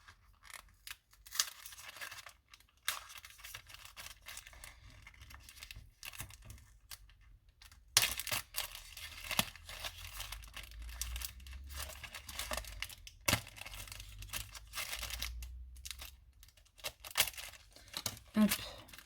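Quiet crinkling and tearing at a plastic packet of beads from Cultura, handled up close in scattered bursts over a low background hum, no talk.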